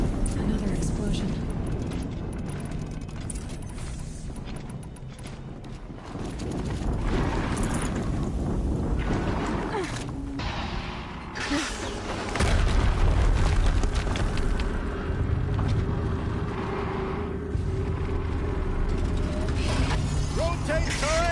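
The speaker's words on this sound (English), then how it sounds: "Another explosion." Explosions and mechanical combat noise in the video game Horizon Zero Dawn, loud and dense throughout, with bursts of rumbling impacts and clanking machinery under game voices talking.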